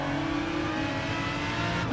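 Aston Martin Group 3 race car engine in Gran Turismo Sport, chasing an Audi R8: a loud, sustained, high-revving drone that stays steady throughout, close up and with no talk.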